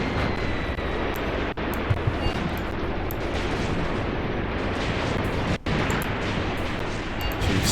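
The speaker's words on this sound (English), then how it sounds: "Serious incoming fire." Artillery and mortar fire in Graviteam Tactics: Mius Front, a dense, continuous rumble of booms and blasts during a WWII tank battle, loud and sustained with no clear gaps and no voices.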